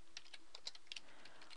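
Quiet, light clicking of keys on a computer keyboard, several uneven taps in quick succession over a faint steady hum, with no talking.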